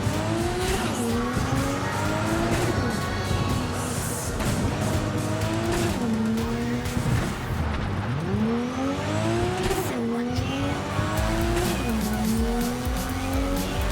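A car driven in the video game Cyberpunk 2077, with its engine revving up and down continuously, shifting pitch, and tires squealing through turns, all loud and close.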